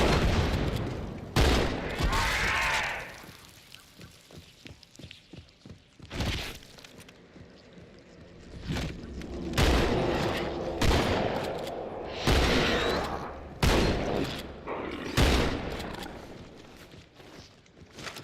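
Repeated shotgun blasts from Halo 2 on Legendary difficulty, loud booming shots spaced irregularly through the stretch with shattering impacts and footsteps between them, no talking.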